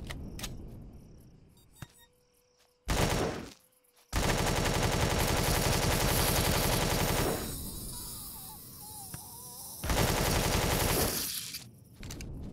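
Automatic turret fire in the video game Empyrion Galactic Survival bursts in long, loud, dense volleys of rapid shots, broken by short pauses and quieter stretches.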